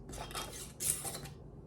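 A metal canning lid ring is screwed down onto a glass jar of crockpot cranberry butter before steam canning, giving two short bursts of close, light metallic clinking and scraping.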